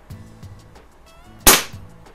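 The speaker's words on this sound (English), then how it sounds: "Let me grab a pellet here. Shoot across the garage here." Crosman Mark 1 air pistol firing a pellet across a garage: one sharp, loud crack, close by, with faint rattling handling noise before and after.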